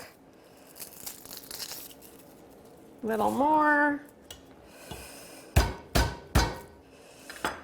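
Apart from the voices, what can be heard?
garlic being smashed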